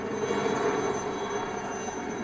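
An army helicopter flying over a forested area in the Doda region of Jammu and Kashmir during a search operation gives a steady, loud engine roar and whine that stays constant throughout, with no speech.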